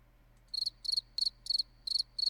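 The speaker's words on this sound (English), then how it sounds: "Oh, the crickets?" A soundboard cricket effect chirps in six evenly spaced trilled bursts, bright and close over a near-silent background with a faint low hum.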